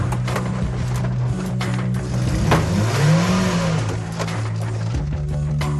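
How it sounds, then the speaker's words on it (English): A manual-transmission car with a smoking clutch revs hard as the gas is pressed: the engine note climbs, peaks and sinks back over a loud, steady rumble close by. "I'm going to hit the gas really fast."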